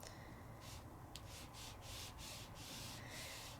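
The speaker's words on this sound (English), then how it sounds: "I'm just going to give a rub of my ink on all four sides." Dye-based ink is rubbed onto paper over a blending mat in quick, repeated soft scrubbing strokes, quiet and close, with a rhythmic brushing texture.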